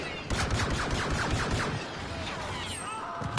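Gunfire from the game Star Wars Battlefront 2 cracks out in quick repeated shots during the first second and a half, then blurs into continuous loud battle noise with more blasts near the end.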